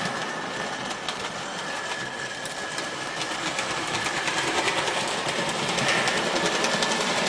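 A Hornby Dublo 3-rail Royal Scot model train runs along the track with a steady mechanical whir and rapid, clicky rattling from the locomotive, close and continuous, growing a little louder toward the end.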